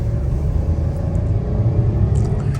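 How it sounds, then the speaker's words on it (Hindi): Traffic rumbles past on the Kashmir Highway near a construction site, a steady low engine drone from passing vehicles at moderate distance, with no talking. "कश्मीर हाईवे की ट्रैफिक जा रही है"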